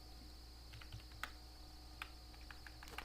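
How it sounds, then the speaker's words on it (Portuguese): Someone types values into a computer keyboard, a quiet, sparse patter of individual keystrokes with irregular spacing over a steady low background hum, no voices. "Então eu vou digitando aqui."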